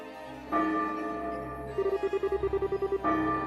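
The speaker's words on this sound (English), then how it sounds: "that sounds like the noon bell" A chiming bell from the video game Trails in the Sky the 3rd rings out as the noon bell, with sustained tonal strikes and a quick run of evenly spaced repeated tones in the middle, fairly loud and clear.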